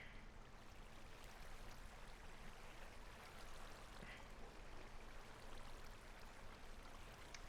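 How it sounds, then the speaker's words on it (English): A strong river current rushes steadily in Minecraft's TerraFirmaPunk modpack, a continuous broadband wash of flowing water with no pauses and no voices over it. "Strong current on this river."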